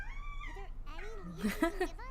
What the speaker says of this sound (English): My little baby kitty who's throwing a tantrum because she can't go down in the basement.